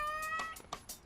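A domestic cat's short meows, a few brief calls spaced across about a second, fairly close over faint tonal background sounds.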